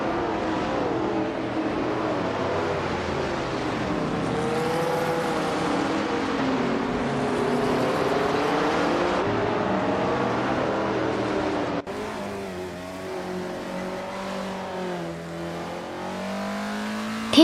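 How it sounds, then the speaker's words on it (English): A 1970 Dodge Coronet Super B races in a video game, its engine droning and revving steadily through gear changes, with the pitch rising and falling continuously over a long stretch. "K. Langstrup is driving a 1970 Dodge Coronet Super B."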